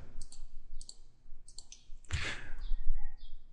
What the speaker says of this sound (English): pressing and holding down the Control key as you click on the additional files you wish to select